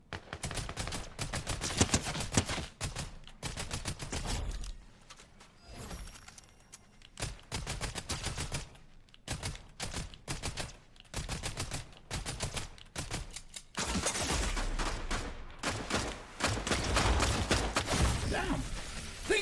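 Shotgun fire from the Fortnite battle royale video game, heard as loud, sharp blasts in uneven bursts among other gunfire and game effects, with a steady dense wash of sound throughout.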